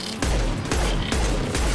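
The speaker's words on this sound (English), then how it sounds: "Let's get Garrus switching to his sniper rifle." Garrus's sniper rifle in Mass Effect 2: four heavy, booming shots about half a second apart, each with a hard low-end thump, loud and close with no speech.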